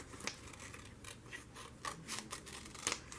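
Scissors snip through paper in a few quick, close cuts, trimming around a paper moose shape for an autumn craft; each crisp snip stands out alone at close range.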